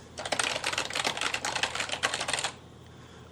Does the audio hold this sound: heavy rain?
no